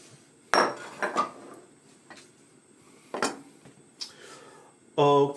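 A lid goes onto a pot of soup brought to a boil and turned down to a simmer, giving a few sharp metallic clanks and clinks close by, with a brief rattle at the end.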